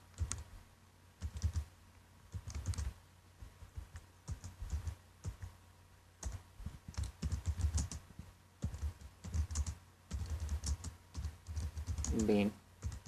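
Steady bursts of keyboard typing clatter close by as a message is written out in PHP code, fast irregular keystrokes grouped in runs with short pauses, and a voice speaks briefly near the end.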